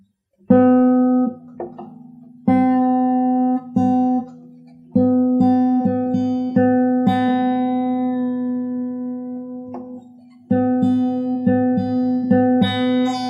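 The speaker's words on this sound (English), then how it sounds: "Let's tune down the B string a little bit." A guitar's B string plucked repeatedly while being tuned down, each note ringing out while its pitch shifts slightly, alternating with a second reference note, no voices.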